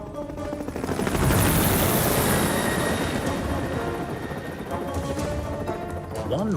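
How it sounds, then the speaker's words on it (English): A cartoon helicopter flies near rocky cliffs by a castle, its rotor a dense, steady chopping roar that swells early and holds loud throughout, with no speech over it. "One morning, Harold the helicopter was rescuing some climbers from the rocks near Callan Castle"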